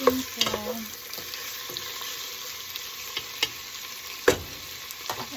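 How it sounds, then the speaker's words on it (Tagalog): Chicken pieces fry in a pan with ginger, garlic and onion, a steady sizzle under occasional clinks and scrapes of a spoon stirring. "Ilagay ko yung chicken. Yung chicken ko. And halo-halo."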